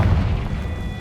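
A Confringo spell explodes in the video game Hogwarts Legacy, a loud, low booming burst that rumbles and slowly fades.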